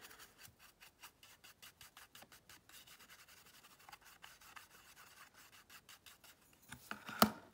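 A fluffy brush rubs gilded leaf over a card coated in sticky embossing powder, producing quiet, rhythmic back-and-forth scratchy strokes in a steady series, with a brief sharper scrape near the end.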